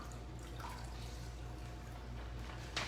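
Faint water trickling and dripping while a face mask is rinsed off at home, a soft steady wash under a low background hum with no talking.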